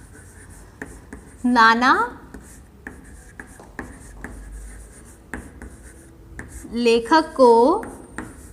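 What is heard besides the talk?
writing an answer by hand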